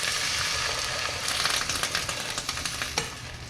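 Beef stock hitting a hot pan of loco moco gravy base with ginger, giving a steady broad sizzle and hiss with scattered crackles and stirring clicks, close and fairly loud throughout, no talking.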